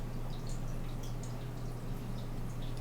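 Water filling in the farming game Farming Simulator 19, a quiet, steady trickling and dripping flow with a low hum underneath and no talking.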